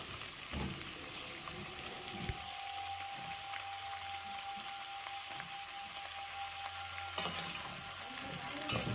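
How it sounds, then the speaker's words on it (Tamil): Brinjal and tomato being sautéed lightly in oil in a pan, a steady soft sizzle with occasional stirring scrapes and clinks, fairly quiet throughout. "இப்போ இதை லைட்டாக வதக்கி விட்டுடலாம்."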